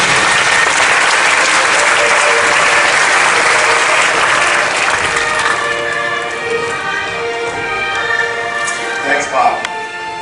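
Loud applause from a media event audience welcomes guests onto a stage, dense clapping for about five seconds that thins and fades into scattered claps and faint murmurs.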